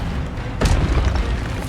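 An Expelliarmus spell blasts in the Hogwarts Legacy video game, a single sharp booming burst that rises out of ongoing battle noise and rumbles briefly before fading back into the background.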